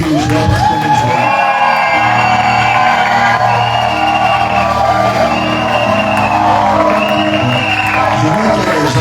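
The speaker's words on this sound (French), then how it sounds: "est-ce qu'on peut pousser des cris de joie parce qu'on est joie?" A church congregation at a Monday service lets out loud, sustained shouts and whoops of joy, a dense crowd roar with cheering voices rising and overlapping throughout.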